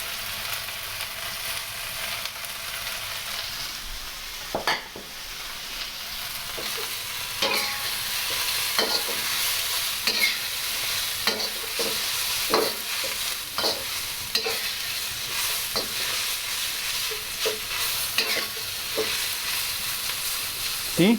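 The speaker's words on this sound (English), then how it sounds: "Add 2 teaspoons of oil. Throw in your noodles." Noodles sizzle and fry in a very hot pan with a little oil, with a steady bright hiss broken by repeated scraping stirs for around twenty seconds.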